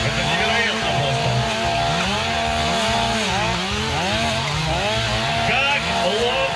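Several chainsaws roar together nonstop, their engines revving up and down in overlapping loud whines at close range.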